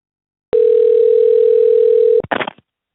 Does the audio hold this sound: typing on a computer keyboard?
no